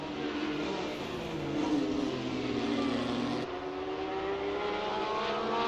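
A race car in Assetto Corsa accelerating hard out of a corner and down a hill on a race weekend replay, its engine giving a loud continuous rising whine with a gear shift midway and no talking.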